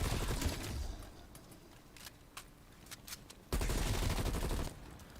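Video game gunfire heard as scattered sharp cracks and short bursts at moderate distance, with a louder burst of rapid shots near the end over a noisy background.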